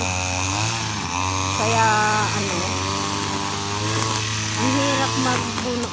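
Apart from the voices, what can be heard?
grass cutter cutting grass in backyard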